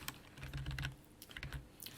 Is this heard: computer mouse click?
yes